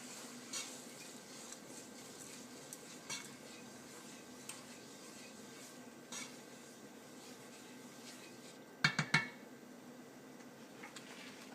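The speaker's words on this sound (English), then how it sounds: "Now we're going to start mixing the rice pilaf" Rice pilaf with about two tablespoons of orzo being stirred in a pot, a soft steady scraping and rubbing that continues throughout, with a few sharper clinks of a utensil against the pan near the end.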